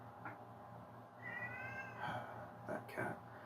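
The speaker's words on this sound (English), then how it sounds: "that cat" A cat meows a few times, high wavering calls over a soft steady background hum, moderately close and faint.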